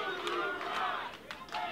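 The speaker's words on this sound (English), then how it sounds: "The crowd chanting," Wrestling show crowd chanting "Thank you, Ron" in rhythmic unison, a steady roar of voices filling the arena with rising swells, unaccompanied by any close speaker.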